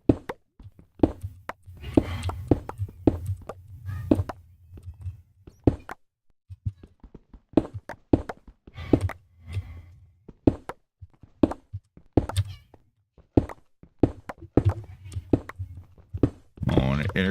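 Repeated pickaxe strikes break through stone walls in the Minecraft NomiCEU modpack, sharp irregular knocks and thunks in quick bursts, with someone talking throughout.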